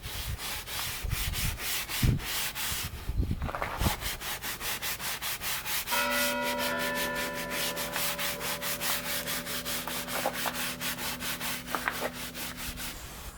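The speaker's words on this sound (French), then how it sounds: "je vous propose une petite séance de relaxation au doux son de la brosse de nettoyage" Cleaning brush scrubbing the interior of a Mercedes CLK500, a steady close-up rubbing and sanding-like texture that runs throughout, joined midway by a faint sustained tonal hum.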